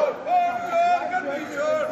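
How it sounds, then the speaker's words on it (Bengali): Opposition protesters chant slogans against SIR and alleged vote theft outside parliament during the monsoon session. Many raised voices shout together in a loud, continuous crowd roar that swells and dips for a few seconds. "বিক্ষোভের স্লোগান।"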